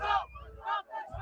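Part of a large concert crowd at a music festival chanting together, voices rising in two or three loud shouted bursts with babble between them.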